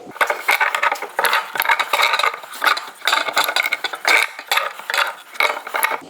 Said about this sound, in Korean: 이왕 조이는 거 파이프렌치 가지고 좀 조여 봅시다